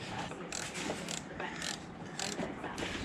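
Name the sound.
undoing a linkage lock nut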